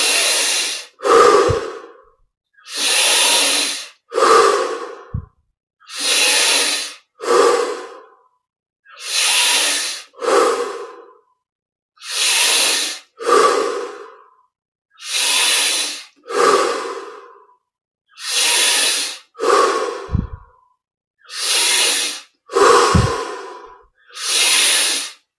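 Forceful deep breaths during a yoga breathing exercise, about a dozen loud, close, hissing breaths in a steady rhythm roughly every two seconds, separated by brief silent pauses.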